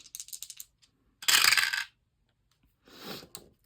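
Dice rolling on a hard surface: a quick run of light clicks, then a louder clattering tumble, and after a pause a shorter final rattle. No voices.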